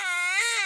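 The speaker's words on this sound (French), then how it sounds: "Chérie, le petit pleure." A baby cries in one short, sharp wail, close and loud, with no talk over it.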